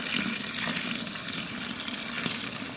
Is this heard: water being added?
yes